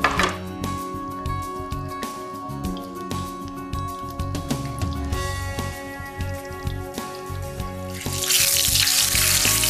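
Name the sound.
chicken cutlet frying in hot oil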